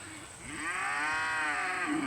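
A cow on a farm lets out one long, loud, drawn-out moo that swells and then holds steady, with cattle nearby.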